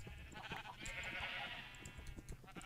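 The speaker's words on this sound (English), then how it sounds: "Oh, there's more sheep." Sheep bleating in Minecraft, a short wavering cry in the middle with faint scattered game noises around it and no talk.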